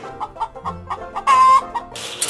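A chicken clucks in a quick run of short, close clucks, then gives one longer drawn-out call and a brief flurry at the end, with no talk.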